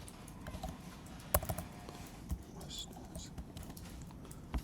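Soft, uneven key taps on a computer keyboard, close and quiet, with a few sharper clicks over a low background hum.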